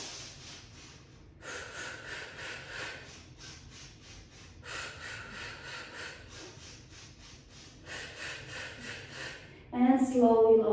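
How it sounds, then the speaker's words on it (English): Slow, steady Pilates breathing, long airy inhales and exhales alternating in roughly even few-second phases, close and soft, ending with a brief louder sound. "Breathing in for 5 and breathing out for 5."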